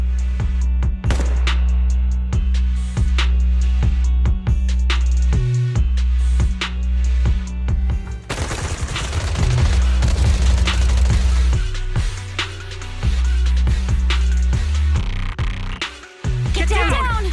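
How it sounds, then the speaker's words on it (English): Repeated bursts of gunfire in Zenless Zone Zero, suppressive marching fire with sharp cracks and deep booms in rapid volleys over a low rumbling background, with voices speaking at times. "Gunfire? This pattern. Suppressive marching fire."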